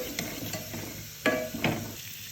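Garlic, curry leaves and rampe tempering in hot butter, giving a soft sizzle with a few scraping stirs of the pan, close and fairly quiet.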